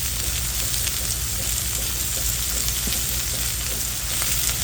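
Chicken frying in a pan for chicken scarpariello with salt, pepper and granulated garlic, a dense, loud continuous sizzle with faint stirring throughout, close up and without voices.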